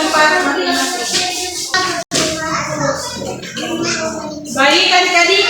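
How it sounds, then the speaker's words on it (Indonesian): Applause from a classroom of schoolchildren, with hands clapping under a busy layer of overlapping children's voices and chatter, loud and close throughout. "Sekarang kita berikan aplaus dulu"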